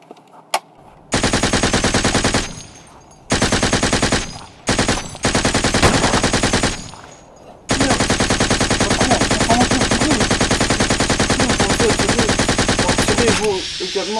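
Sustained bursts of rapid automatic gunfire at a shooting test, loud and close, broken by brief pauses before a long continuous volley.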